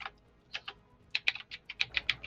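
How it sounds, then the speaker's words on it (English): Quick, uneven bursts of keystrokes on a mechanical computer keyboard, close and crisp, clacking in irregular clusters with brief pauses between them. "Pat, just so you know, we can hear you typing"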